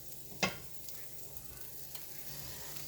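Green beans and baby squash cook in a pan with a low, steady sizzle, broken early by one sharp clack and a few faint stirring scrapes.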